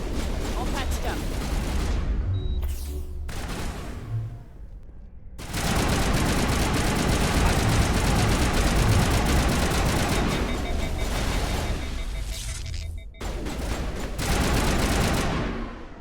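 Mass Effect 1 weapons fire in sustained, loud bursts of rapid gunfire amid combat noise, broken by a few short pauses, with speech mixed in during the firefight.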